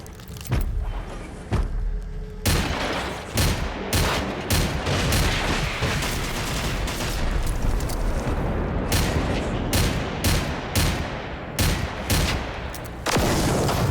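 Gunfire in the video game Generation Zero, a dense run of loud close shots and bursts, some in rapid clusters, with short gaps, booming low and continuing almost without pause.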